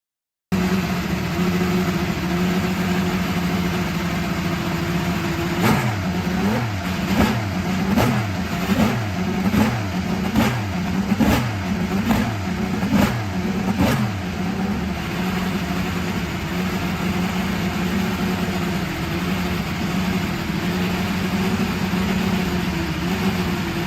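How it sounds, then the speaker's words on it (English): IndyCar race car engines at the Indianapolis Motor Speedway idle as a steady loud drone, then a rapid series of sharp revving blips rises and falls for several seconds before the engines settle back to a continuous roar. "Gentlemen, start your engines."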